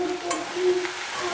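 Chopped onions are stirred in a hot pan, a soft sizzle with scraping strokes of a spoon against the metal, close and fairly quiet.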